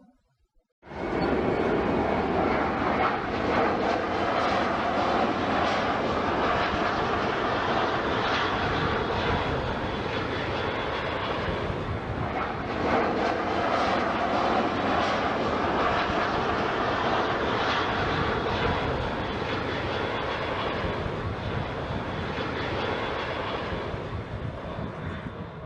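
An airliner from a British Airways advertisement roars loudly and steadily for about 25 seconds after a sudden start. The engine noise is broadband and sustained, with a brief shift in texture midway, and no voices are heard.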